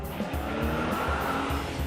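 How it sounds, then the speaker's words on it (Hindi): A Range Rover speeding away at full throttle, its engine roaring with a rhythmic surging tone and a hint of tire squeal, loud and close, with no voices. "उन्होंने भगा ली अपनी गाड़ी फुल स्पीड में"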